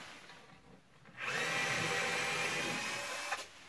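Power drill backing screws out of wall battens while insulating a light exterior wall, a short quiet lead-in followed by a steady, loud continuous whir that ends with a brief bump.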